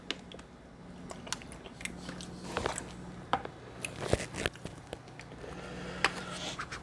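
Bites of homemade deviled egg being chewed close up, soft wet squishes and small crunchy clicks in an irregular rhythm, fairly quiet with no talking.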